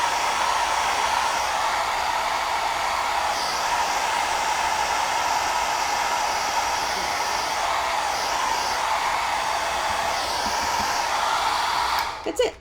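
Hair dryer blowing steadily on freshly painted white areas of a boho mason jar door hanger, a loud close whooshing hum that holds unbroken before clicking off at the end.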